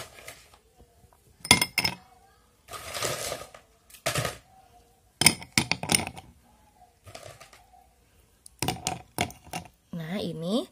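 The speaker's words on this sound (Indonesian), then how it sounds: "di sini gelas A ini akan Ibu berikan es batu" Ice cubes clatter into a glass in several separate bursts of clinking, close and bright. Short pauses separate the bursts, and someone speaks between them.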